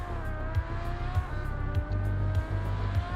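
A drift car in a racing video game entering a corner on the handbrake, engine droning steadily with a sustained tire squeal and rhythmic low thumps, loud and close throughout.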